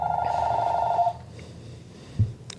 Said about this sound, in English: phone ringing